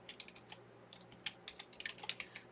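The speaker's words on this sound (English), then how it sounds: "I'm typing this up in the comments." Quick, uneven keystrokes tapped on a computer keyboard, close and fairly quiet, with clusters of clicks and brief pauses over a steady low hum.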